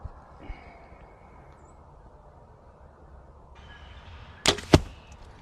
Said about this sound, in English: That one hit the backstop